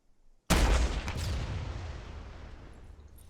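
Rocket launcher fired during military training, a sudden loud blast after a moment of quiet, followed by a long rushing roar that slowly fades.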